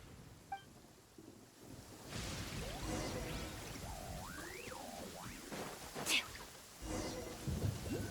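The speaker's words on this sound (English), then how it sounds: "Uh-oh! Lightning storm!" Heavy rain hisses steadily through a thunderstorm in the video game Genshin Impact, with a low rumble of thunder building underneath, a sharp crackle near the middle and swooping game effects over the top.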